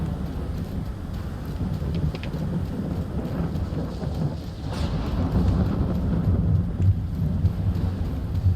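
A thunderstorm in the game Stalker 2: Heart of Chornobyl, with steady heavy rain and deep rolling thunder rumbling continuously, loud and enveloping with no voices.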